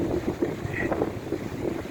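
Strong Storm Eunice wind gusts across a rocky North Wales shoreline in rough, breezy conditions. The gusts buffet the microphone with an uneven, low, rumbling roar for two seconds.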